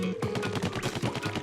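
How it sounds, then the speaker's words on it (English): Cannon firing at a box in Splatoon, a quick cluster of punchy, thudding bursts in a rapid rhythm with busy game effects layered over it. "I guess you have to hit it with the cannon to know for sure."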